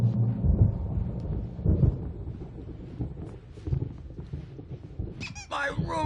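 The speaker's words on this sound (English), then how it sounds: "There's a storm coming." A video game thunderstorm with low rumbling thunder and rain-like wash that swells and fades, followed near the end by high squeaky tones, moderately loud with no speech.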